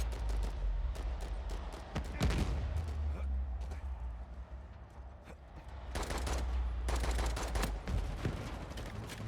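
Rapid video game gunfire crackles in dense bursts of shots over a steady low rumble. Shooting runs through most of the stretch and is loudest near the start and toward the end.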